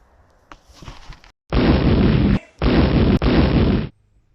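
A compressed gas explosion: a loud, sustained blast of rushing gas bursts out twice in quick succession, roaring noisily before cutting off abruptly.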